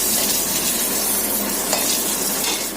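Whole cumin, black peppercorns, cinnamon, cardamom and dried chillies sizzle in hot oil for a Bengali tempering, giving a loud, dense, continuous crackling hiss with a faint stir.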